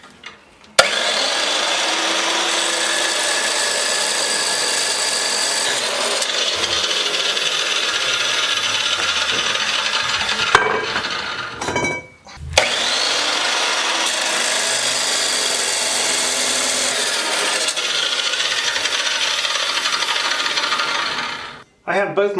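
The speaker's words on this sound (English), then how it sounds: "So now we just have our old chop saw." An old chop saw cutting steel pipe pieces for a log arch build, a loud sustained grinding whine for about ten seconds, a short pause with clunks, then a second long cut.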